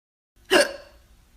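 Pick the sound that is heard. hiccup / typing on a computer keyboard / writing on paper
hiccup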